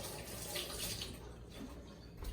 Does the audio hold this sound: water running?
yes